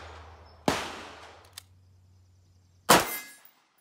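A short-barreled rifle fires two sharp, loud shots about two seconds apart, each cracking outdoors and trailing off into a brief echo, with a faint low hum between them.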